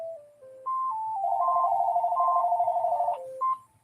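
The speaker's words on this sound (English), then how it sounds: "Let me take this phone call, please." A phone ringtone for an incoming call plays a bright stepped electronic melody with a sustained warbling middle note, close and clear, no one talking over it.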